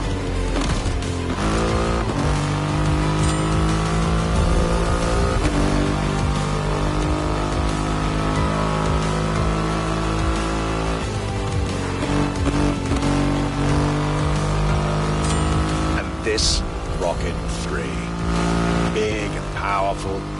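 Triumph motorcycle with a 2.5-liter engine in the racing game The Crew Motorfest, its loud engine roaring and shifting pitch continuously as it accelerates, with revving and brief tire squeals.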